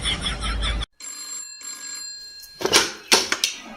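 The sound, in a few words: mobile phone ringing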